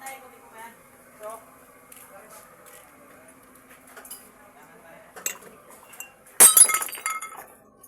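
A sharp glass shatter crashes out near the end after quiet clinking and background noise, loud and close with a ringing tail of falling shards; voices are present around it.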